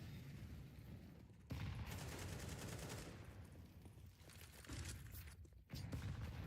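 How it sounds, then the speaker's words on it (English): Rapid bursts of explosions and gunfire from a Counter-Strike match pile up as a grenade barrage, loud and dense, with sharp drops in between. "Typical barrage of nades to start"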